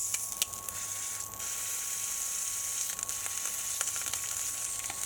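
A 36-hour sous vide beef brisket sears in a very hot pan, making a constant soft sizzle with a few scraping and clicking bursts as it is moved around, no talking.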